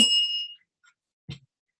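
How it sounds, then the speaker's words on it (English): A small bell rung by hand indoors, one bright ringing strike that fades within half a second, then a short dull clank after a pause. "What do I use the bell for?"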